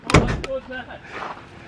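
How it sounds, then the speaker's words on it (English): A door swings open with a couple of sharp clunks and a rattle, then a brief creaking squeal trails off into quiet background noise. "They're not used to me opening this door."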